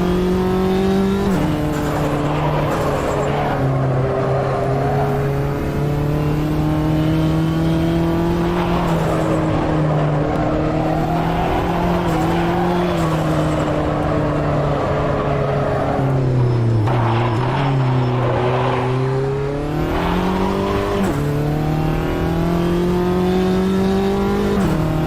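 Small Mini race car engine in a sim racing game, a loud continuous buzzing drone that rises and falls with gear changes and throttle lifts, close up and steady for the whole stretch without speech.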